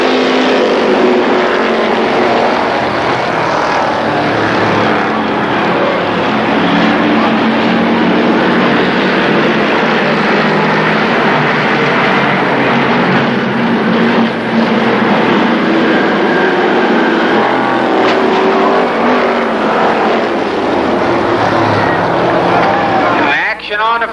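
Street stock cars roar through an eight-lap heat race at Columbus Motor Speedway, a loud, continuous engine drone that holds for the whole stretch with a public-address announcer talking over it.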